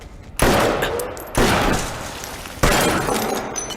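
Gunfire in a Hindi-dubbed Hollywood action film crashes in as three separate loud, close bursts, each a sharp onset that leaves a long, noisy rumbling tail, with glass breaking within the din.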